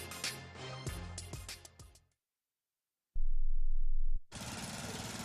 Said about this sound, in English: I'm just mowing the lawn.